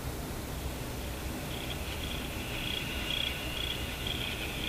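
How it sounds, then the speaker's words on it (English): A cricket-like chirping heard through a Sonora RQU-222 six-tube radio while tuning on its loop antenna, a steady high-pitched trill over constant hiss that swells and pulses rhythmically in the second half. "There's a cricket in the radio."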